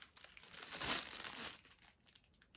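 Thin plastic bags that once individually wrapped rings crinkle and rustle close up, building to a dense crackling swell midway before settling into scattered lighter crinkles, with no one speaking.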